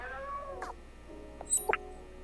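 A cat in the video game Stray lets out a couple of short, close meows and a squeaky, rising caterwaul over a low steady background hum.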